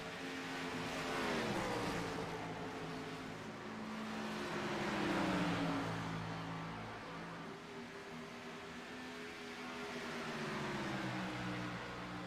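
Race cars racing at Dover International Speedway: engines roar in overlapping waves that swell and fade as cars sweep past, a sustained, distant, mechanical drone with no talk.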